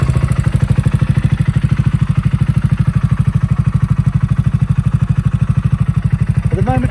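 A motorcycle engine with an ignition fault runs close and loud, its pulsing thump steady and regular as if idling, with no speech over it.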